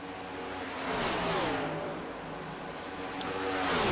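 Race cars roar around Charlotte Motor Speedway, a steady engine drone rising and falling in pitch as cars pass, with the loudest surge near the end.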